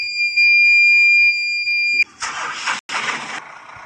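A vehicle engine cranks and catches in an Indonesian driving video game, a loud rough roar with a brief gap, coming right after a steady two-tone electronic whine.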